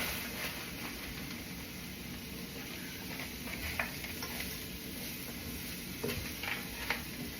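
Frozen spinach sizzles and crackles in a pan over sautéed onions, a steady close frying hiss with occasional stirring scrapes and no talk.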